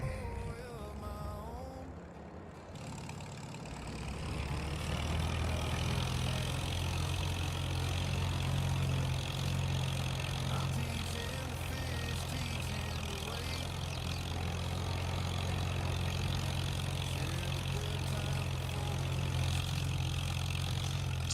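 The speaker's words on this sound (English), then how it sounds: "Jump in the little Alice Chalmers WD-45. Nice little tractor." Allis Chalmers WD-45 tractor engine idling on a farm, a steady low rumble that swells after a brief dip and holds loud and constant throughout.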